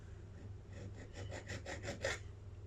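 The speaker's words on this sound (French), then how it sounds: "Alors là, je vais y aller à la lime" A hand file rasps against a plastic 3D printer extruder lever on a Creality CR10S Pro, a series of quick back-and-forth strokes quickening and growing louder over a low steady hum, close and fairly quiet.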